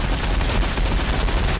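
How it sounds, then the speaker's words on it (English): Ork warbikers firing guns in a Warhammer 40,000 battle game against Tyranids, a dense, continuous roar of rapid gunfire filling the whole moment, loud and close. "Warbikers firing"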